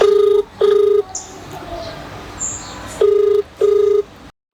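A phone call being placed: two pairs of long, loud electronic ringback tones with a pause of near-quiet between them, and faint chirps in the gap.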